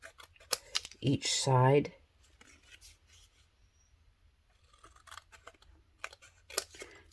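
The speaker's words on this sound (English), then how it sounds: "trim just a tiny bit of that off" Scissors trimming a small card for a junk journal, with quiet snips and paper rustles spread across the clip, close by, mostly between a brief stretch of talk at the start.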